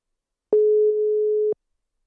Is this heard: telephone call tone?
yes